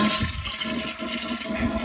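Household toilet flushing with the water supply shut off, a steady close rushing and gurgling wash of water lasting the whole moment, no voices.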